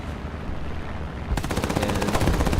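Aircraft machine guns firing in War Thunder air battles, a rapid burst of rattling shots that starts abruptly over a steady engine drone and continues fast and loud to the end.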